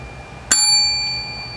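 A bright bell-like notification ding strikes once, loud and close, then rings on with a long fading tone over a quiet background.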